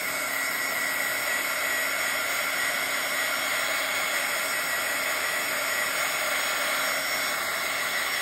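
A hair dryer blows steadily on wet paint in a Bible journal, a loud, constant whirring hiss with a high whine that runs unbroken from start to finish with no talking.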